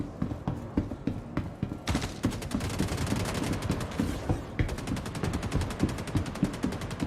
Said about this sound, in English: I'm going to try and shoot him as he pops up